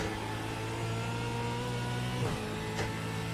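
A V8 Supercar in the iRacing sim revs hard through the gears: a loud, steady engine drone with rising pitch sweeps and a quick shift near the end, with no talking.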